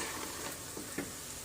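French fries frying in hot oil, a faint, soft sizzle with a couple of brief crackling pops, heard close but quietly and without talk.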